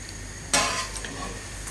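Cheddar and chorizo quesadillas go into a pan on low heat, giving a sudden soft sizzle as they land, then a gentle frying hiss with light clinks of utensils.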